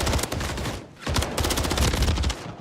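Rapid bursts of automatic gunfire from a Call of Duty MW3 ranked match, loud and close, with a brief gap before the shooting resumes.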